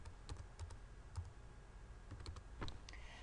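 Someone typing a name on a computer keyboard, a soft, irregular patter of key clicks in short bursts, close and quiet, with no voices.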